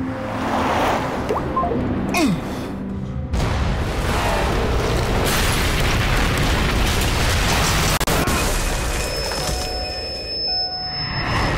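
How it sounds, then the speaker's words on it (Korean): Tunnel collapsing, a sustained roaring rush of crumbling debris that swells into a loud, dense rumble and keeps pouring on, with faint tones lingering near the end. "개통된 지 한 달이 채 안 된 터널이 처참히 무너져 내렸습니다."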